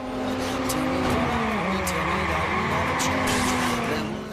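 A car sliding and skidding in the open-world game Watch Dogs 2, its engine droning steadily while tires squeal in a long wavering screech, loud and close, with a few sharp clicks over the top.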